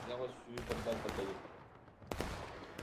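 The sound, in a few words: gunfire and artillery in a Civil War video game battle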